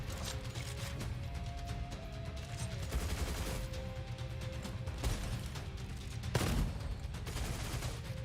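Rapid gunfire from a shotgun in the video game Gunfire Reborn, a dense steady run of shots with mechanical clatter and a sharper blast near the end, no talking.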